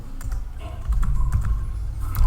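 A command being typed on a computer keyboard: a quick run of close, light key clicks over a low background hum, with no talking.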